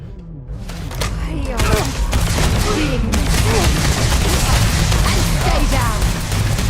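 Rapid bursts of EM weapon gunfire from Starfield crackle loudly and continuously, mixed with booms and combat noise, while voices shout over the fight.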